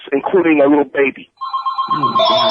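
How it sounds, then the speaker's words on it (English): A telephone rings with a bright electronic trill, starting just after someone speaks and continuing under his voice as he talks over it. "I'm so sorry about that phone"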